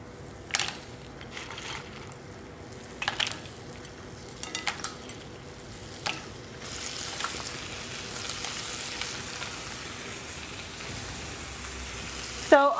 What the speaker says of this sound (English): So let's go ahead now and place our mussels in the pan.